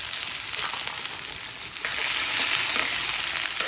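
Onions hiss and sizzle steadily in a pan with too much hot oil on a gas stove while cooking pulao, a loud, continuous spattering crackle that grows a little stronger toward the end.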